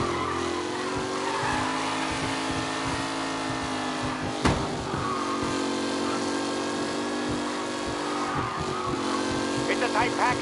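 A tight pack of race cars roaring together, a steady layered engine drone with one sharp bang midway and faint tire squeal near the end, a voice talking over it.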